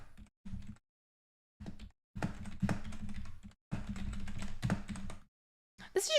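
Someone types on a computer keyboard in quick bursts of dense, close clicking, separated by short silent pauses, with a faint high tone at the very end.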